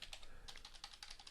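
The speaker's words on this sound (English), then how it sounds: "And now I can just start typing in" Computer keyboard keys clack in quick irregular bursts of several presses, close and crisp, with brief pauses between clusters and no speech.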